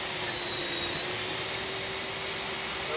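Jet engines of an Airbus A300 in the X-Plane 11 flight simulator drone in a steady, loud broadband roar with a thin high whine running on top, unbroken and without speech.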